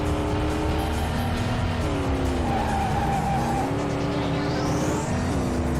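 A Ford race car in a driving video game roars at high revs while its tires squeal and skid through a long slide, engine pitch shifting up and down, loud and close throughout.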